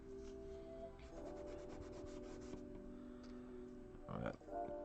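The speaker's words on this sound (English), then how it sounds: "I'm going to use a little cotton pad here. Gotta rub it in a little bit more." A cotton pad rubs steadily over a drawing during a pet portrait session, a soft continuous scrubbing texture that sits faint and close under a low background hum, with a brief louder scuff near the end.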